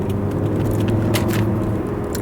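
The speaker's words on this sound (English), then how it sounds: "it was a lot of traffic there." Road traffic: a continuous close rumble of passing cars with brief swishes of vehicles going by, steady and fairly loud throughout.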